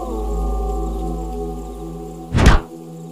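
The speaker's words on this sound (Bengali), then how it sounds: "কেউ কি আমাদের চালের উপর ইট পাটকেল ছুড়ছে?" A single heavy thud of bricks or stones landing on a house roof at night, one short loud impact after a sustained low droning background.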